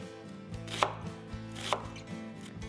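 A knife chops through an onion on a cutting board, with several distinct cutting strokes landing in an irregular rhythm, close and clear, and no talking.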